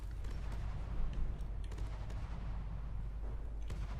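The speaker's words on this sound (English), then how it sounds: "Once again, the missile barrage" A missile barrage detonating in a naval combat video game, a dense run of distant booms and cracking blasts over a heavy low rumble, with no talking.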